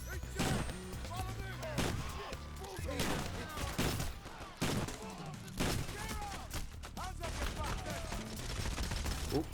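Rapid gunfire from a PAYDAY: The Heist crime shooter firefight, with sharp repeated shots and heavy bursts over a dense, loud battle din, while a voice talks intermittently over it.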